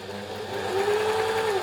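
A serger overlocker sewing machine runs under power after hand-turning, its motor whirring up to a steady, loud, rising hum that holds to the end.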